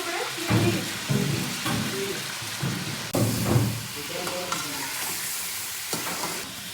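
Chicken and garlic fry in a kadhai on a professional stove in a restaurant kitchen, a loud, steady sizzle broken by repeated scraping and stirring strokes, with kitchen clatter around it.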